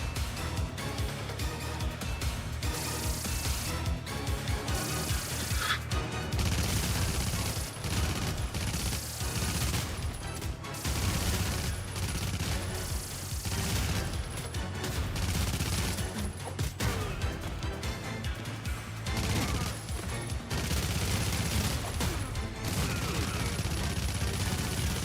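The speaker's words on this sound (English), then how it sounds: "Can you stop shooting grenades and rocket." Grenade blasts and rocket fire in the Terminator 2D: No Fate video game, a dense, continuous barrage of loud shots and explosions running the whole length with no letup.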